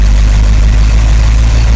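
A 1953 Oldsmobile Rocket Super 88 barn find idles with its Rocket engine, a loud, steady, deep rumble that holds evenly throughout, with no voices over it.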